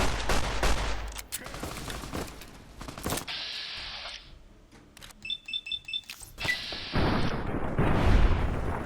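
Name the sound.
gunfire from guns in the video game Fallout New Vegas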